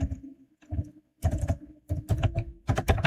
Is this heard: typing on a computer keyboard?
yes